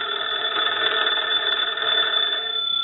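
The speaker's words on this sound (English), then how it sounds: "I'm going to go ahead and ring the phone" A Kellogg wooden wall telephone's bell rings steadily and loudly up close, a continuous bright metallic jangle that stops abruptly near the end.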